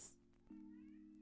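A house cat meows in one sustained call that breaks partway through, close and fairly quiet indoors, with no talking over it.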